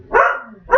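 A pet dog, a female, gives two loud, close barks in quick succession, the first longer and drawn out and the second clipped short.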